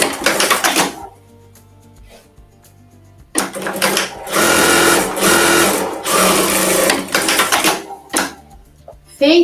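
A sewing machine stitches closed the opening on a fabric tote bag, running in loud, fast bursts of mechanical clatter with a pause of about two seconds between runs.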